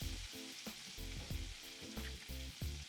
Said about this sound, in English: I'm gonna put a half a stick of butter in there, and I'm gonna wait for it to melt and start to get brown